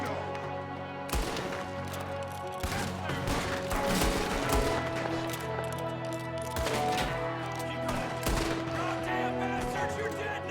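Dense volleys of rifle and pistol shots crack through an ambush in Red Dead Redemption 2, sustained and loud over a dramatic music bed with occasional shouting voices.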